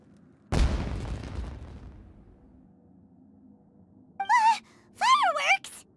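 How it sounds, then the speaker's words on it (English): A single loud explosion like a firework bursts in the Genshin Impact video game and decays over about a second and a half, followed by short gasping, exclaiming voice sounds. "Was that an explosion? It sounded like fireworks."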